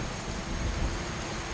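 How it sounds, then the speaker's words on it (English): Steady rain and thunderstorm rumble in the video game Skyrim, a dense wash of falling rain with low rolling swells, continuous and fairly loud, no voices. "What kind of demonic bloody storm are you?"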